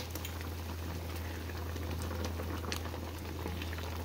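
Calamondin orange marmalade boils in a pot with a constant close bubbling and popping, thick and even throughout over a low steady hum.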